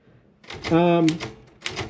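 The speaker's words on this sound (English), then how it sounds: "And as you press the key, you see the bar jumps across." Keys are pressed on an old Royal typewriter, giving a few sharp mechanical clacks spaced apart, close and clear, while someone talks over them.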